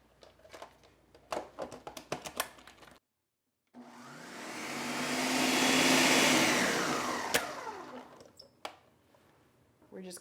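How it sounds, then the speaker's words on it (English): A blender runs with its lid on, whirring crepe batter smooth in one loud, steady run of several seconds that swells and fades, with short sounds before it starts. "Put the lid back on and let it blend till it's very smooth."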